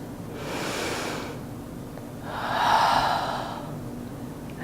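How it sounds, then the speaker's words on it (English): A deep breath taken during a yoga flow, with a soft inhale followed by a louder, breathy exhale, close and audible over a faint hiss. "Take a breath."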